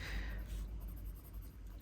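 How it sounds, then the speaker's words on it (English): A pencil sketches on paper in light, soft scratchy strokes, close and quiet, with faint rustling textures continuing steadily throughout. "I'm going to go in with the edge of my pencil, and I'm just going to sketch in"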